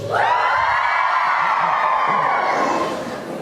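A small crowd at a gathering for 9/11 first responders shouts together in response, a loud sustained collective yell of mixed voices that swells quickly and holds for about three seconds before fading slightly.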